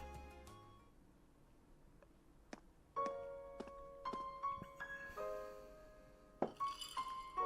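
A drinking glass in Trails of Cold Steel gives a series of light clinks and taps against a hard surface, several separate ringing hits spread out over the clip alongside soft tonal chimes, quiet and close, without speech.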